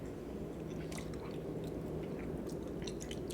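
A person chews pasta close to the mic, soft wet mouth sounds and small squishes repeating over a steady background hum.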